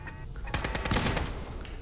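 Automatic turret gunfire from the video game Fallout 4 rattles in loud, dense bursts of rapid shots over a busy game soundscape, swelling midway and continuing to the end.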